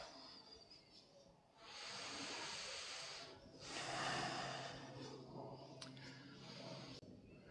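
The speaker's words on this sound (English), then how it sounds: "Hold for 5 slow deep breaths" Slow, deep breaths drawn during a held yoga twist, soft and close: a quiet inhale, then longer breathy hisses that swell and fade over several seconds.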